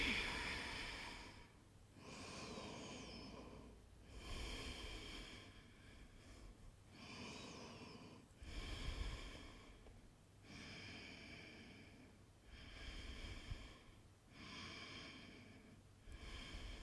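Slow, deep breathing through the nose during a yin-style seal yoga pose, with long airy inhales and exhales repeating every two seconds or so, close and soft, with no talk.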